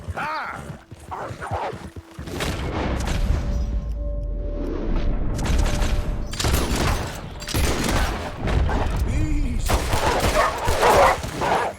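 Pistol gunfire in the Western video game Red Dead Redemption 2, scattered loud shots mixed with horse hooves and whinnies, with someone talking over the action.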